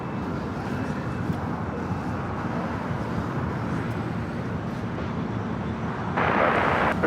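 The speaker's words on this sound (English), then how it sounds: "Next takeoff here on the south side is JetBlue, flight 1524, A321 Neo heading to JFK" A JetBlue Airbus A321neo rolls for takeoff at LAX. Its jet engines make a broad, steady roar that swells louder toward the end, with outdoor wind and traffic noise mixed in.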